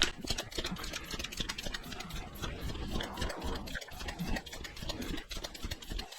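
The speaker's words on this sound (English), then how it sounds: "now let's just use the standard track pump" Standard track pump inflating a tubeless bicycle tyre, repeated rhythmic pumping strokes with hissing air bursts, close and fairly quiet, continuing over several seconds.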